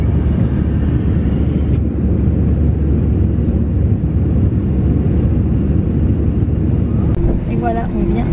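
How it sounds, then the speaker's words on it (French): Airliner cabin roar at touchdown in Barcelona, a steady, loud broadband rumble of engines and airflow that fills the whole stretch, with a brief rattle near the end. "on vient d'atterrir à Barcelone"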